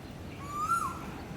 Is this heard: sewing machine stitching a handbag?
no